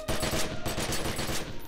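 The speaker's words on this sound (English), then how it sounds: "So that's enough of the assault rifles" Rapid assault rifle fire in The Secret World, a fast rhythmic string of loud close shots lasting under two seconds, with no voices.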